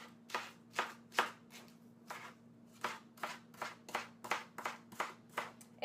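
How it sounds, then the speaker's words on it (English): A knife chops through a Napa cabbage leaf in about a dozen crisp, sharp strikes on a board at an irregular but steady pace. The strikes are close and there is no talking, only a low electrical hum underneath. "So I'm just going to chop it up a bit."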